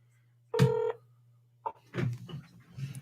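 A telephone being dialed for a call, one clear electronic tone followed by softer clicks and brief tones under a low steady hum.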